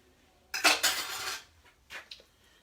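Utensil scraping and clattering against a bowl as an egg is whisked into a Southern-style Thanksgiving stuffing mixture, a burst of brisk strokes followed by a few lighter taps, close and alone.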